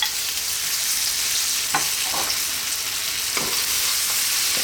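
Carrots and green beans fry and get stirred in a pan, a steady close sizzle broken by a few scraping stirs of the utensil.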